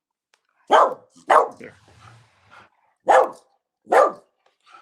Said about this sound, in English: She cannot bark without leaving her front 2 paws.